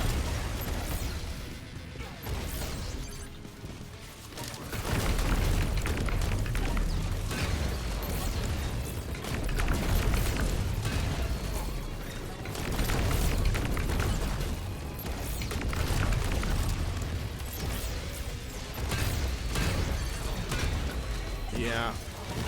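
Crimson Repeater weapon blasts and explosions in a futuristic shooter video game, a dense, loud barrage of booms and crashes running almost the whole time, with someone talking over it.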